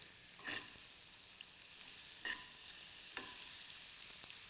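Onions frying in a pan with a pinch of turmeric added, a steady soft sizzle broken by a few scraping stirs.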